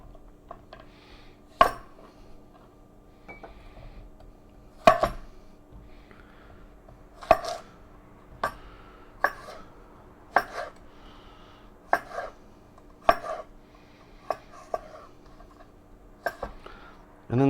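A knife chopping avocado, red onion, garlic and serrano pepper on a board: a dozen or so sharp, separate knocks at uneven intervals, close by, with quiet talk now and then.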